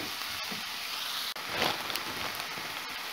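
A galette mixture seasoned with salt and pepper sizzles steadily in a pan over medium heat, a continuous close crackle with faint stirring scrapes and no talking.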